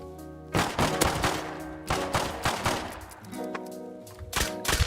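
Gunfire in the survival game Rust comes in repeated bursts of loud, sharp shots, spaced across the whole stretch with short pauses between volleys.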